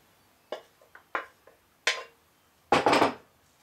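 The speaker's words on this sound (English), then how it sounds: "Simply just going to lay it out here on my cookie sheet." Sliced cabbage is laid out on a metal cookie sheet, giving a handful of sharp, separate clanks and rattles spaced unevenly, the last a longer cluster, with no talking.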